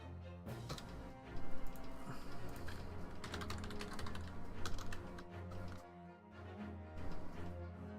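Computer keyboard typing during a game session, dense irregular key clicks running under steady background game music, fairly close and continuous throughout.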